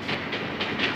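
Trains passing on a railway line close to a hotel in Bombay, a steady rumbling roar with rhythmic clickety-clack pulses of wheels over rail joints, continuous and fairly loud with no voices.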